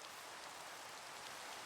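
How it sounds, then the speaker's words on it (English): Steady rain falls in Minecraft, a soft even hiss of drops with no pauses, faint and continuous on its own. "It has started raining as well."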